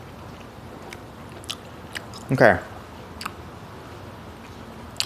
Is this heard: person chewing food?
yes